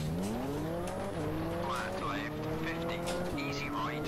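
A Subaru Group N rally car in Richard Burns Rally revs hard on tarmac, its engine note climbing through gears with quick shifts, tire squeal mixed in, and someone talks over it.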